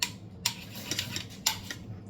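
Food being mixed in a dish with cutlery, a few sharp clinks and scrapes of utensil against the dish spread irregularly over a quiet background, close and moderately loud.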